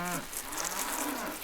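A cow on a farm lets out a low, drawn-out moo that slides down in pitch, fairly close and clear, fading into soft rustling ambience with no talking.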